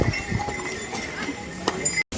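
Horses' hooves clip-clop on the Kedarnath mountain trail, with a few irregular knocks mixed into busy outdoor crowd noise and voices, all at moderate loudness.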